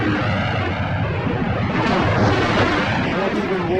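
Vintage aircraft coming in to land with no wheels down, a loud, continuous broadband engine roar with rumbling low end that swells slightly toward the end, old film footage.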